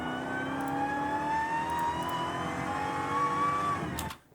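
An 807 hp Dodge Challenger Hellcat Super Stock engine drones loud and close, its pitch climbing slightly as it revs before the sound cuts off abruptly near the end.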